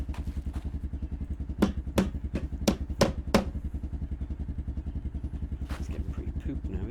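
Building work on a wall in Project Zomboid: a handful of sharp hammering knocks land in an irregular burst over a steady low engine-like drone, loud and close, with no talk.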